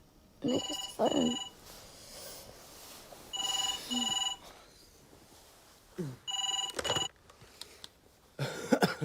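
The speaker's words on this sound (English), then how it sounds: "Nick, it's the phone." An electronic telephone rings in a trading office setting, several bursts of repeated tonal trills in pairs with short gaps, fairly loud and close, followed by brief rustling handling sounds.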